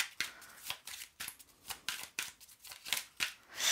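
Oracle cards being shuffled by hand, a quick irregular series of crisp riffling flicks and slaps, close and fairly loud, with no talking.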